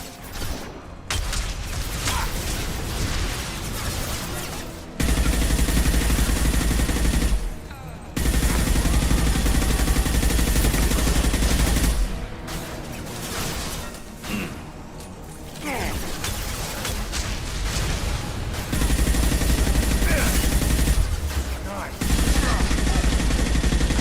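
Firefight in the video game Mass Effect, with repeated bursts of weapon fire, heavy impacts and mechanical clatter coming in waves, mixed with occasional voices.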